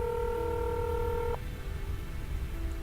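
Touch-tone dialing in a Nancy Drew mystery game, a run of steady overlapping keypad tones lasting over a second before cutting out, leaving a low hum.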